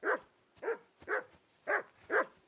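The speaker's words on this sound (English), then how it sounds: "Call off that damn dog" Dog barking in Kingdom Come: Deliverance 2, five evenly spaced sharp barks at a moderate distance, each clear and alone with no talk over them.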